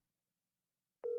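A telephone ringtone starts abruptly near the end, a steady close electronic tone after silence.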